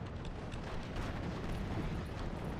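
An artillery barrage rumbles in the WWII Normandy strategy game, a dense continuous roar of overlapping distant booms and crackling bursts, heavy low rumble throughout with no clear gaps.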